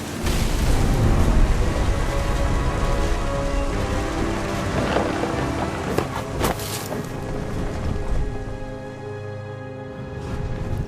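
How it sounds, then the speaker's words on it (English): A thunderstorm in What Remains of Edith Finch rumbles with heavy rain and deep, rolling thunder, loud at first and easing slightly, with game music layered underneath. "Thunder sounded much too close and full of angry power."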